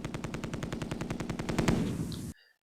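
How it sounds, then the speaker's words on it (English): In the Tigers on the Hunt war game, a machine gun fires one rapid, evenly spaced burst for about two seconds, then cuts off abruptly into near silence. "Machine guns can be fired alone or together with infantry."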